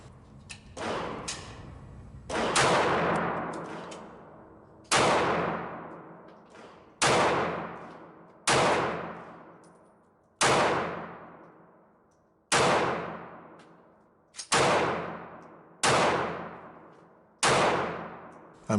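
A Ruger LCP MAX 75th Anniversary stainless .380 pistol fires about ten loud shots at a target, after a short burst of faint noise, each crack trailing off in a ringing tail, paced roughly every one to two seconds.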